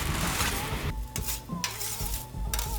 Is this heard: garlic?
yes